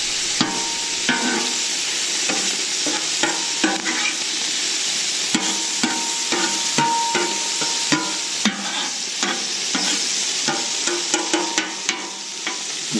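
Sausage, peppers and onions sizzling on a Camp Chef FTG600 outdoor griddle, a constant loud frying hiss broken by repeated metal spatula scrapes and taps as the food is stirred and turned.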